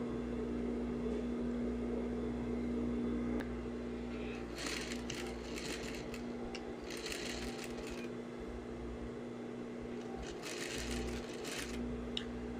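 A sewing machine stitches through a dress lining in steady bursts of rapid needle clatter over a constant motor hum, with brief pauses between runs.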